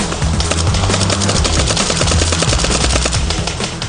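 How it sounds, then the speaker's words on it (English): Paintball markers firing during a big charity paintball battle in the woods, a loud, dense stream of rapid popping shots overlapping into near-continuous volleys with a low rumble underneath, no talk. "The paintball markers are not automatic, but some of the people firing them are so talented, so skilled, it seems as if they are"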